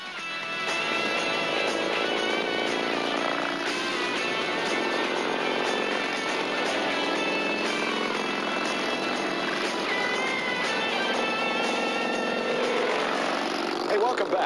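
Motorcycles gathered during Bike Week at a restaurant parking lot in Andalusia, Alabama, a dense steady roar of engines revving and idling that stays loud throughout, with a mix of other noise over it.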